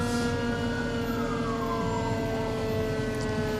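A fire engine siren wails continuously through a Main Street holiday parade, loud and close with a sweeping tone over steady engine rumble, no voices.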